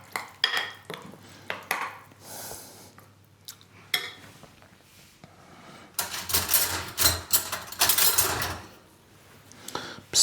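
Clattering and scraping in a bowl as ingredients are stirred together for a pan-fried zander fish dish, with bursts of clinking and rubbing, close and fairly loud, no talking.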